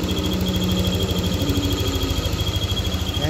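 A Yamaha Nmax V2 scooter engine idles in neutral with a steady, loud, even pulsing close by, a thin high whine running through it with the odd squeak, no one speaking.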